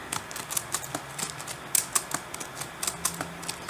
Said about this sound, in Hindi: अब हम इसके ऊपर कुछ भी टाइप करेंगे।